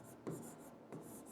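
A teacher writing during a child-development lesson on Kohlberg's stages of moral development, with two brief scratchy strokes over a steady hiss and no one talking.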